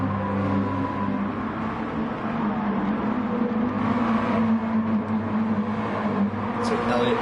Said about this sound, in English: with tires squealing for their life right now